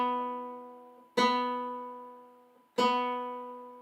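A guitar's B string is plucked twice during tuning, each note ringing and slowly fading, heard clean and alone with no other sound.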